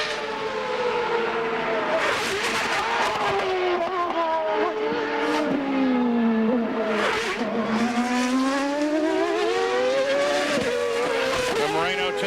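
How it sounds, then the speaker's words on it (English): Roberto Moreno's CART race car at Portland qualifying in 2001 screams down the front stretch, its engine pitch rising and falling through repeated gear changes, loud and close, with commentary voices talking over it. "Just listen as he comes down the front stretch."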